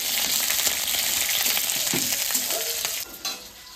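Green chili and garlic fry in hot oil for Lakshmi dal, a dense continuous sizzle with stirring scrapes, briefly dipping near the end.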